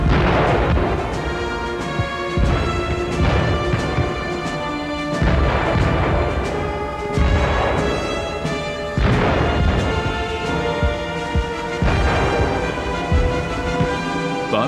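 World War One artillery fire: heavy booms repeat roughly every two seconds, each one loud, deep and rolling, with crashes and rumble between the shots.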